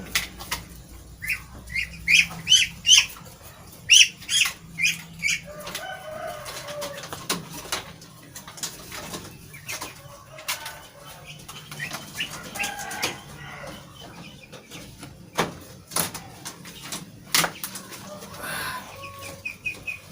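Muscovy ducks kept in a battery cage give scattered clucks, soft calls and occasional wing flaps against a quiet farm background, fairly faint and irregular.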